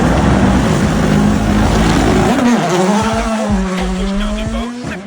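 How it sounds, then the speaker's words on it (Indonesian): A rally race car roars past with a loud, close engine note that sweeps down and back up while its tires squeal and skid over the engine, all without any talking. "balapan ini sangat ikonik dengan mobil-mobilnya yang bisa memiliki suara khas seperti ini"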